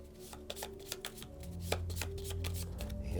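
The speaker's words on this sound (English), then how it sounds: "we'll get the scavenge deck out, and we'll give that a shuffle" A deck of scavenge cards riffled and shuffled by hand at a Shadows of Brimstone tabletop game, crisp papery snaps and clicks in a quick irregular run, close and moderately loud, no talking.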